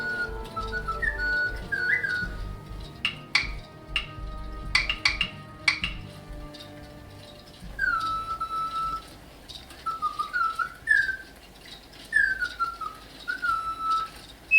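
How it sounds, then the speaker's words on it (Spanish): Singing bird automatons built by François Junod give quiet, chirpy whistled phrases in short repeated runs, with small metallic clinks and ticks scattered between them in an otherwise hushed room. "no pude dejar fuera a estos pajarillos autómatas también creados por François Junod"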